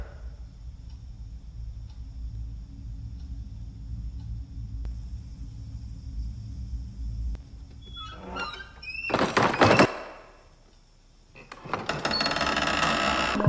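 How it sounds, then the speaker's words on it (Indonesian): In a horror film scene, a few dull knocks sound against a quiet, humming room. A door then bursts open loudly, followed after a brief hush by a long, rough scraping rush. "Bu Woro yang akan wudhu tiba-tiba mendengar suara ketukan"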